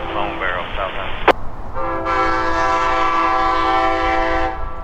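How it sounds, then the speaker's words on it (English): Amtrak Silver Meteor led by a Siemens ALC-42 locomotive arriving at Winter Haven station: a loud, sustained multi-tone horn blast follows a sharp clank and a brief voice, with rumbling train noise underneath. "The Silver Meteor pulls into Winter Haven with its Siemens ALC-42 locomotive in the lead."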